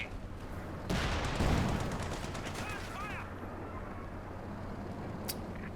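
Bursts of MG42 machine gun fire in a Company of Heroes 2 match, rapid crackling volleys under busy battlefield noise, with a loud burst early and a sharp report near the end.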